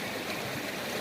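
A gold-bearing creek flows past where blue and gray clay is being panned, a steady, full rush of water without breaks, close and fairly loud.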